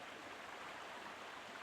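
Muddy, pump-driven water pours through a pond cave in a steady, unbroken rushing wash, moderately close and with no voices.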